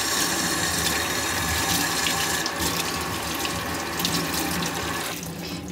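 Water streams steadily from a kitchen tap over leafy greens being rinsed. The flow is loud and close, its spatter shifting as the leaves move under it, and it eases near the end.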